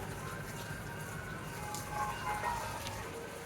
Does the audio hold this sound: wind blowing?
no